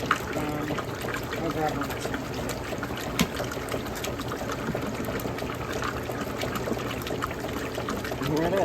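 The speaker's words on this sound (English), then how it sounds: "Here it is, washing away. And it sounds like a vintage Whirlpool more than I was expecting" A vintage Whirlpool washing machine runs water during its wash, a continuous trickling and sloshing with mechanical hum underneath, while someone speaks briefly over it.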